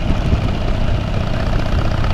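A Harley-Davidson motorcycle engine runs with a steady, loud low rumble and continuous vibration, close up and uninterrupted with no talking.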